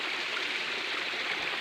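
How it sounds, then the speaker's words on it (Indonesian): Small stream of spring water trickling and flowing steadily at a hidden spring in Kalidawir, Tulungagung, a close, even rushing hiss with no pauses or voices. "Nah, ini semakin ke bawah betul-betul terbentuk sungai"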